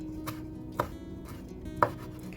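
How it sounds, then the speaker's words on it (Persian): Fresh parsley sprigs are finely chopped with a knife on a board, three or four soft, unevenly spaced knocks heard close and fairly quiet. "چند شاخه جعفری رو هم ریز خرد می کنم"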